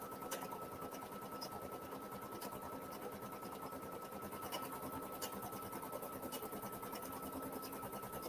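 An embroidery machine stitches a floral design in a steady, fast mechanical whir with a regular needle rhythm and faint periodic clicks, continuous and moderately quiet with no voices.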